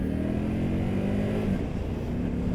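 A 2025 Indian Scout Bobber motorcycle on its stock exhaust accelerating, a steady, close engine drone with rising tonal harmonics and no talking over it.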